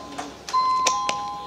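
A time bell rings in a legislative hearing, sounding as a thin, clear sustained tone that rings on under faint, soft room noise.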